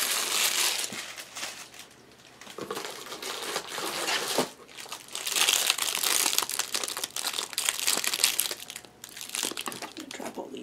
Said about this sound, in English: I'm going to drop all these back in the box, all the twist ties.